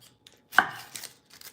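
A knife chops through an onion on a board, a few crisp close cuts with short gaps between them, the loudest one in the middle and a quicker pair at the end.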